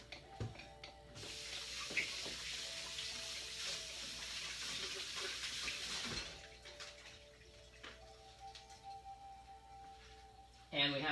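Water runs from a kitchen tap for several seconds as hands are washed off during cooking, a steady hiss that stops abruptly, with light clatter and a voice talking around it.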